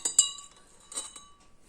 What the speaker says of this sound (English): in first glass I am adding few drops of ink and stirring it